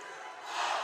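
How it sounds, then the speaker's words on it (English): Spectators at a high school football game between Arvin and Golden Valley, a broad crowd roar swelling slightly louder toward the end of a brief moment, with no clear talk over it. "the crowds are going back and forth with each other in a fun atmosphere"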